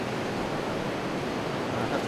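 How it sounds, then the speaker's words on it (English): Ocean waves washing in at a rocky shore pool, a loud continuous rush of surf with some wind noise on the microphone. "I have to be a little bit careful because the waves are coming in"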